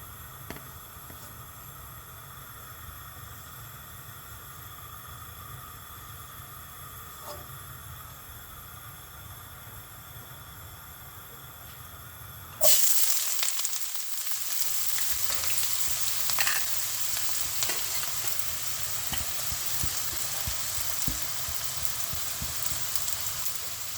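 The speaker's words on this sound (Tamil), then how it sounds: "இப்போ நம்ம நல்லா ஃப்ரை பண்ணிடலாம்." Sliced onions fry in hot oil, giving a steady hiss that jumps into a louder, rain-like sizzle partway through and then continues evenly.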